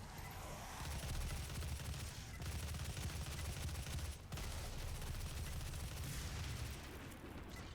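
Rapid, sustained gunfire from the PS4 game DOOM, with heavy booming low end. It sounds as one loud, dense barrage broken by two brief pauses and plays alone without any talking.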